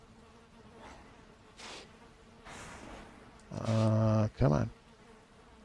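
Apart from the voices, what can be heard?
bees buzzing around beehives in the video game Valheim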